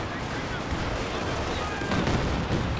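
A Katyusha rocket artillery barrage in Company of Heroes 2 rumbles as a dense, continuous wash of rapid launches and blasts, with heavier thuds toward the end and battle noise throughout.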